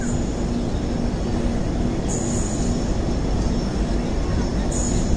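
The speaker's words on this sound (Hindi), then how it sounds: "तो आगे से आ रही है अपनी फूड क्वीन मांडोवी एक्सप्रेस" The Mandovi Express passenger train, with brand-new coaches, rolls past close by in a steady, loud rumble and roar of wheels on track, with faint high squeals overhead.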